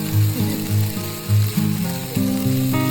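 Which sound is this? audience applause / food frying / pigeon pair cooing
food frying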